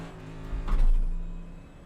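An iRacing NASCAR Cup car at Las Vegas pulls away from a pit stop, its engine swelling briefly to a peak and then easing back, all within a couple of seconds.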